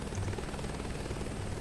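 Steady rotor thrum and engine whine of a helicopter in Flight Simulator 2024, continuous and fairly loud with a faint high tone above, no talking.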